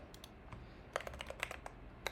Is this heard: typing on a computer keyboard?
yes